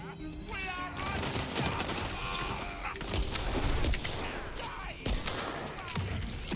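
Sniper shotgun fire in the video game Tiny Tina's Wonderlands, several loud booming shots in quick succession amid busy combat noise and other game effects.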